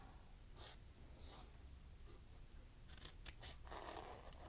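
Scissors snip through paper, cutting out small printed numbers and letters for nature-journal specimen cards, a series of close, crisp cuts in short bursts with quiet pauses between.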